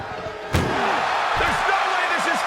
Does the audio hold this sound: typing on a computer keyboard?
no